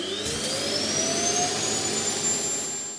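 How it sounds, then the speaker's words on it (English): A eufy X8 Pro robot vacuum's self-emptying dock runs loudly and steadily, a roaring jet-like whoosh with a rising whine that holds for a few seconds before tapering off. "The X8 Pro's self-empty on the other hand is pretty loud, but it does only last a few seconds"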